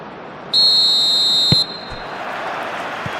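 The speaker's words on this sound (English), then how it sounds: "There's the whistle, and here we go." A referee's whistle blows one long, shrill, steady blast in an eFootball PES match of England versus Argentina, over a constant stadium crowd roar that swells a little afterward.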